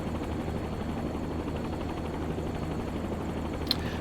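Bell Jet Ranger helicopter climbing in a flight simulator game, a steady dense rotor and turbine drone that holds even and continuous throughout, with one brief faint click near the end.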